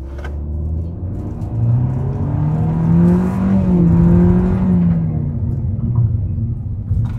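A Hyundai Stargazer Cartenz engine roars steadily as the car accelerates, a loud close rumble that swells in pitch and then eases, with no talking over it.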